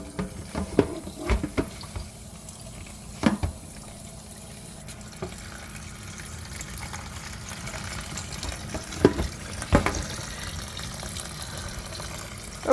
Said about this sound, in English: while I'm rinsing the noodles